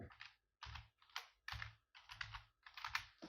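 Close, crisp keystrokes on a computer keyboard come in five quick bursts of rapid typing, each separated by a short silent pause.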